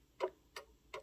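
Count wheel mantle clock ticking out of beat: three sharp ticks spaced unevenly, quiet and close, with no voices.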